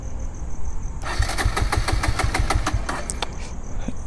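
A Bajaj Pulsar N160 motorcycle engine cranks and catches after a brief quiet moment, then settles into a rapid, even idle thump close by, with a few sharp clicks near the end.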